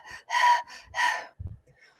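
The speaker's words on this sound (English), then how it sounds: "take a deep in-breath and basically start panting, like a gasp or a pant" A person gasping and panting, with sharp breathy inhalations and short shallow breaths in quick succession, close and fairly loud.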